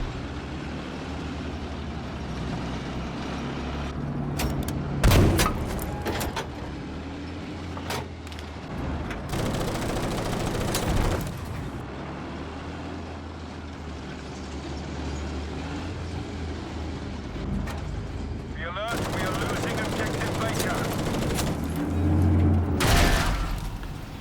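Tank combat in Battlefield 5 gameplay has heavy engine rumble and rattling tracks under repeated loud cannon blasts and bursts of gunfire, with a shouted voice at moments.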